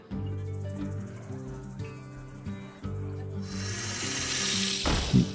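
An Emperor Cobra card is played in a Hearthstone match, giving tonal game music and chimes that swell into a bright, noisy whoosh with a sharp hit near the end.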